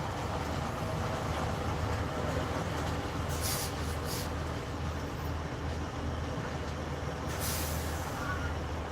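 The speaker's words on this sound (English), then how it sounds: "One of our other trucks is pulling in right now" A company semi truck pulls in with a steady low engine rumble throughout, broken by several short hissing bursts of air brakes near the middle and toward the end.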